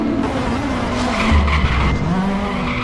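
DTM touring race car spinning out at Imola, a loud sustained tire skid and squeal over engine roar lasting about three seconds, close and dominant, with a commentator talking throughout.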